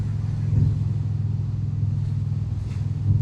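Indian Springfield motorcycle riding on a road with small potholes, a loud, steady low engine rumble with constant wind buffeting and slight swells in throttle, heard close up from the rider's position.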